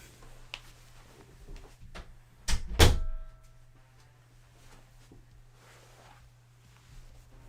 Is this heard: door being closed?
yes